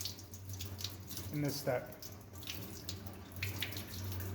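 Water runs steadily from a tap to rinse a copper printing plate clean after scrubbing, a continuous low hiss beneath a voice talking over it.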